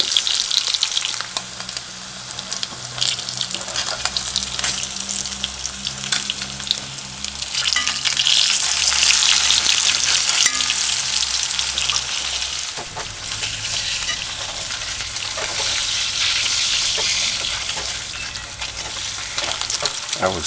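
Slices of Spam luncheon meat sizzle steadily in a pan over a medium-high stove, a continuous close, bright crackle with a low hum beneath that shifts partway through.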